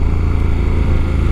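A KTM 1290 Super Adventure R motorcycle engine while riding, a loud, close, steady throbbing drone with a rapid pulsing beat and no pauses.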